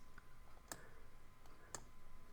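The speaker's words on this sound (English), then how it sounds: "And then I'm just clicking on the screen" Two sharp, faint mouse clicks about a second apart, made while working on a computer screen, over a quiet room hiss.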